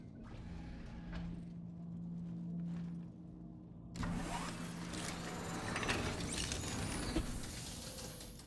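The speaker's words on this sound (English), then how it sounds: "Engines on." Spaceship engines in the space game Star Citizen spin up: a low mechanical hum with clicks, then a sudden louder whooshing roar that keeps building.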